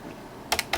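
Buttons on a vintage RadioShack fluorescent-display calculator are pressed in a short quick run of crisp clicks, fairly faint and close, with quiet around them.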